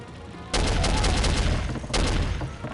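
Gunfire in the Soldier of Fortune video game: two dense, loud bursts of shots, the first running over a second and the second shorter, close and harsh over a steady background hum.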